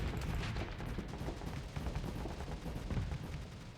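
Rapid bursts of rocket and weapons fire in a StarSector space combat battle, a dense crackling barrage of repeated impacts and blasts continuing throughout without pause.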